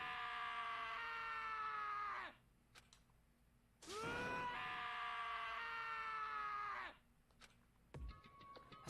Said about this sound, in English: As Taka's sad screams invaded our skulls